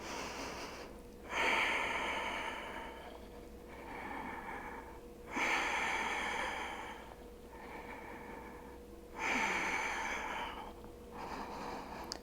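Deep, slow breathing while holding a stretch during a splits flexibility routine: three long, soft breath cycles, each a drawn-in inhale followed by a gentle exhale, close and quiet with no talking.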